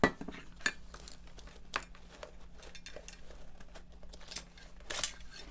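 Aluminum canteen and cup being handled, with metallic clinks and scrapes scattered through the stretch and a louder knock near the end, close and fairly quiet.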